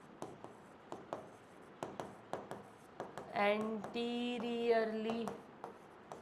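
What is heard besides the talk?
writing on a board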